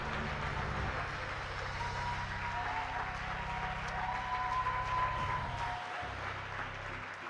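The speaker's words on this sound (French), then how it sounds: "Acclame-le vraiment. Acclame-le réellement." Congregation at a church service applauding and cheering, a steady wash of clapping and crowd noise sustained throughout, with a low droning tone underneath.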